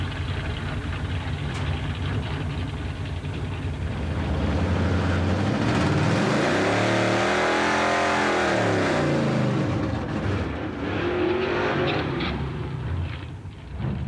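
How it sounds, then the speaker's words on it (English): A Roadkill Garage wreck-runner race car revs hard through a double burnout, spinning one tire and then the other, with the engine roaring loud and close and climbing in pitch through the middle of the run. "The double burnout. Spin one tire, then the other."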